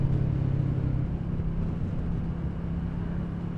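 A motorcycle rolls along steadily in second gear on a low-speed town road, its engine a constant low drone mixed with broad wind rush heard from a helmet camera, with no talk over it.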